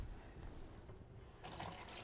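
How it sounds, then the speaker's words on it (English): Tap water runs in a kitchen while hands are washed, giving a soft, steady trickle and splash that gets a little brighter near the end. "let me wash my hands"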